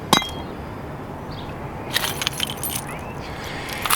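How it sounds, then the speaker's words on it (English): A bunch of keys jangles and clinks near a trailer hitch job, in a quick burst at the start, again around the middle and once more at the end, over a low background hum. "I have so many keys and half of them I never use."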